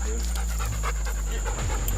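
A dog pants rapidly close by while lapping muddy water, steady rhythmic breaths over a constant outdoor hum, with a voice speaking faintly in the background.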